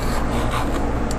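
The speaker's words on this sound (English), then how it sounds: "Let's scrape some more of this trash out of here." Dried white paint, set hard, is scraped off a painting's surface in a steady, close, continuous rasping rub.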